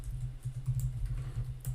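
Steady typing on a computer keyboard, a quick run of light clicking keystrokes over a low background hum, close and fairly quiet.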